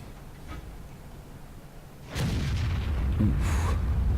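A video game gun with a slow reload fires at targets, a soft muffled shot followed by a heavier boom with a rumbling tail, moderately loud.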